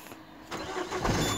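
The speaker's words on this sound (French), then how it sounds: "Donc on démarre le moteur." A Peugeot 307 HDi diesel engine cranks and catches, rising from a low rumble into a rougher, louder running note over a second or so, heard close and alone.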